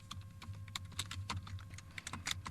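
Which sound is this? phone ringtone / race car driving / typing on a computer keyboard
typing on a computer keyboard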